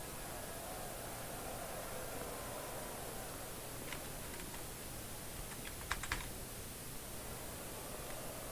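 Faint, sparse key taps on a computer keyboard's arrow keys while playing a retro cricket game, a few quick clicks scattered over a steady background hiss.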